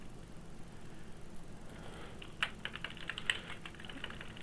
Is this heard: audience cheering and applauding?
no